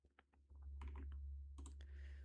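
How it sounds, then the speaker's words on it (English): Quiet touch typing on a computer keyboard, scattered soft key clicks in short bursts over a low steady hum, close by with no talking. "I'm so good at typing."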